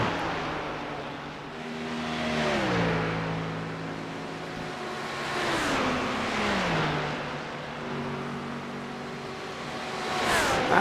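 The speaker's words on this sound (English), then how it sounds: "That little Ferrari there" Ferrari GT3 race car engine in iRacing at Spa-Francorchamps, revving high and dropping pitch through repeated downshifts, with whooshes of cars passing by; steady loud engine drone across the whole stretch with no talk.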